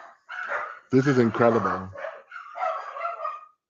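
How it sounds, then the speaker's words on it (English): Several pet dogs bark and yip in short bursts mixed under an excited voice talking over them, loud and close. "Sorry, I have dogs."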